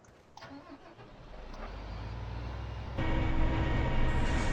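A Farming Simulator 2013 model 1100 combine harvester engine rumbles steadily and loudly, building in intensity and then stepping up sharply to a fuller, louder roar partway through, with no talk.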